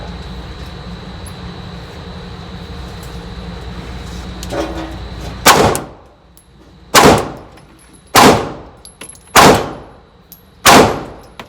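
Five sharp 9mm handgun shots at a gun range, evenly spaced about a second apart, each a loud crack with a ringing decay, after a few seconds of low background hum.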